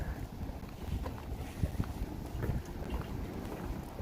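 Wind gusts steadily across an outdoor theme-park setting at Epcot near the Moroccan Pavilion as a storm approaches, a loud continuous rumble buffeting the microphone with a few brief thumps and no talking.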